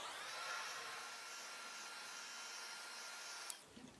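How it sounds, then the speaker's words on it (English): A craft heat tool blowing over cheese cloth on a craft mat, a steady airy whirring hiss held throughout, ending with a couple of small clicks as it shuts off. "now I'm going to put the heat tool to it because I want it to dry a little bit before I try and pull it up off of the craft mat"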